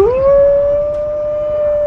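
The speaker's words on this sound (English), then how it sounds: "Black Wolf calls out and listens for a reply." A black wolf howls alone in the wild, one long sustained rising call that levels into a steady tone, loud and fairly close with no other sounds.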